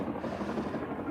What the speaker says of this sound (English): there's a helicopter flying by.